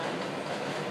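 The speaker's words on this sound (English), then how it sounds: "The stupid train goes by like every 3 minutes" A loud subway train rumbles past close by, a dense continuous roar of wheels on rails filling the whole moment with no voices over it.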